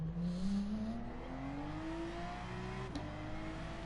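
A race car engine in a racing video game revs up under heavy throttle, pitch climbing steadily over a few seconds with a brief click near the end, moderately quiet and without voices.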